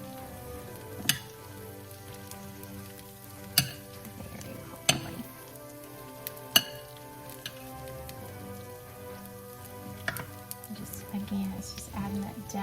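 Yellow summer squash and Vidalia onion softly sizzling in a pan, with several sharp clacks of a stirring utensil spaced a second or two apart over a quiet, steady fry.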